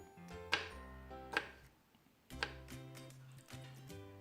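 Knife chopping seeded guava slices into cubes on a board for fruit chaat, a few sharp, close thuds spaced irregularly about a second apart, with light clicks between.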